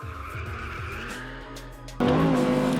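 Race car sliding on track with tires squealing, a sustained engine drone and skidding screech, growing suddenly louder and harsher near the end.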